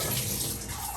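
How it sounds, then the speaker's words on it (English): Water from boiled potatoes pours into a colander in a steady, loud, broadband rush with no speech. "I'm going to now drain my potatoes in this beautiful colander"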